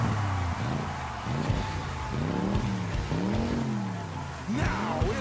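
Race car engines roar and rev without a break at an event opening. Several engines rise and fall in pitch one over another, loud and close, with crowd noise underneath.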